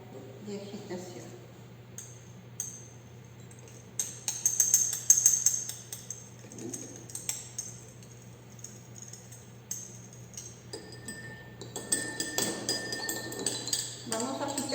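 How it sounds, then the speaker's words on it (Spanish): A glass stirring rod clinks lightly against a glass beaker while copper sulfate crystals dissolve, giving scattered soft taps and stirring scrapes over a low steady hum. "Vamos a agitarlo hasta que se disuelva totalmente los cristales del sulfato"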